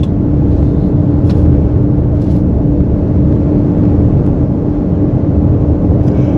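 Steady low road rumble and engine drone from inside a car cruising on an open road with a big windshield, continuous and fairly loud, with faint ticks and no talking.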